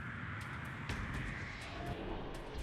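A British-built de Havilland Comet passenger jet airliner drones steadily, a faint, continuous engine roar and hiss with no voices.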